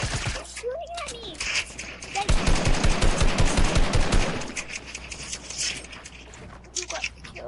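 Rapid automatic gunfire from a video game firefight rattles in a dense, loud burst lasting a couple of seconds, with scattered shots before and after and a player's voice talking over it.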